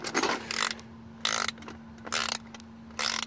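A Hyper Tough SAE ratcheting wrench ratcheting in four close, crisp bursts of rapid clicking separated by brief pauses, loud and with no voices.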